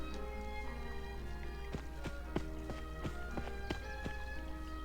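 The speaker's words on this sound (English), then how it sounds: "And you can hear him stomping off." Heavy footsteps stomp away in the video game Digimon Survive, a run of sharp clopping thuds over steady game background music.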